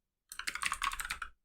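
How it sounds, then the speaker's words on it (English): Rapid typing on a computer keyboard, a short dense burst of close, crisp key clicks lasting about a second, with no talking. "I'm typing"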